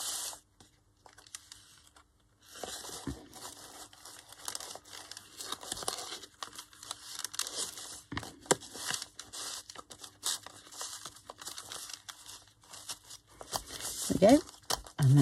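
Paper envelope handled during a shabby-style craft folio project, with sharp crinkling, rustling and tearing-like bursts in an irregular rhythm, close up and fairly loud.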